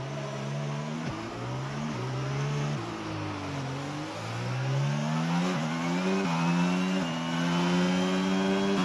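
An F1 car engine in the F1 22 video game bogs down at the race start, its pitch dipping and stuttering before climbing through repeated gear shifts, loud and close with no talk over it.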